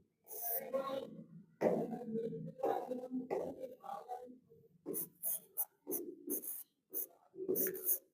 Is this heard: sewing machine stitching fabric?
no